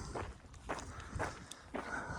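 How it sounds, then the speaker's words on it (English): Footsteps on the Appalachian Trail at Yellow Creek Gap Road: four or five steady, unhurried steps crunch on the trail surface at a walking pace, fairly close, with faint outdoor background noise. "The last few footsteps I had on the trail, or I'm taking right now"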